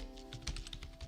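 Quick keystrokes on a computer keyboard as a MySQL command is entered, a short burst of soft, close clicks in an uneven rhythm.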